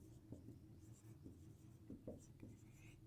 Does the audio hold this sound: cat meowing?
no